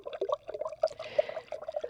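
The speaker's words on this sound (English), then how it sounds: "I love the sound as it starts bubbling and brewing." A coffee maker brewing a full 12-cup pot, bubbling and gurgling softly with a steady, close trickle of water.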